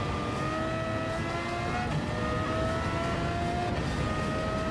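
A Tomahawk street car in Gran Turismo 7, rated at 579 horsepower, drives with a steady high engine drone and whining gear tones rising and shifting, loud and continuous without talk.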